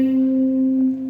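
A single sustained guitar note C rings steadily, clear and close, fading slightly at the end.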